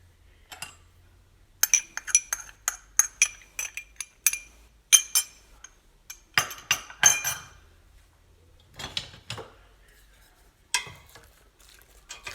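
Meat being stirred in a metal cooking pot before the oil goes in, a spoon scraping and clinking repeatedly against the pot in irregular bursts with short pauses, close and crisp, and no talking.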